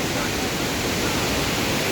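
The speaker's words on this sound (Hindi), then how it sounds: "अब मैं बिल्कुल इस झरने के नीचे पहुँच चुका हूँ।" Steady, dense roar of falling water heard from right beneath a large waterfall, loud and unbroken without pause.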